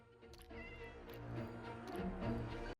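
Minecraft cat meowing repeatedly in the game, several drawn-out mews in close succession over steady ambient game sound, near and fairly loud, no talking.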